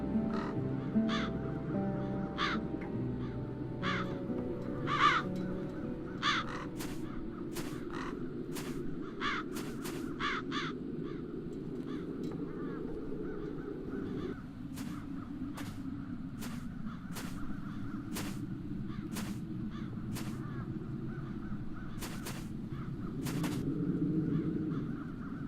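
Crows caw repeatedly in The Dark Eye video game, sharp calls scattered irregularly over a low ambient hum, some in quick clusters and some spaced apart, with no speech.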